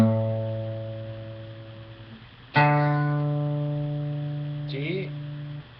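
An acoustic guitar string, capoed at the fifth fret, rings as a tuning reference: one note fades for two seconds, then a fresh pluck rings out strongly and sustains, with a brief slide or second touch near the end.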